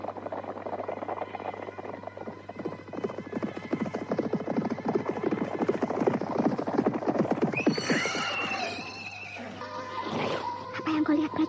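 Horses whinnying loudly amid dense clattering hooves and commotion from a mounted group of riders halting, a busy continuous din with neighs rising toward the end.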